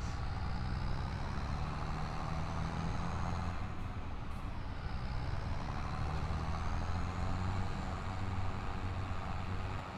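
A front loader in Farming Simulator 25 drives with a steady, loud diesel engine drone and a constant low rumble throughout, with no voices.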